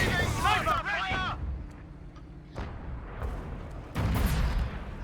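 Sniper and rifle fire in the Company of Heroes 2 beta, playing as the Germans in a winter battle, sharp shots and booms over dense battle ambience while a voice talks loudly at the start.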